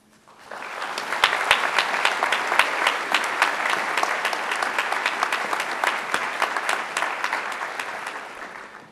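Sustained applause from a graduation ceremony audience at a midyear graduates recognition event, welcoming a faculty speaker to the podium; dense, steady clapping from a large crowd that swells quickly and holds at an even level throughout.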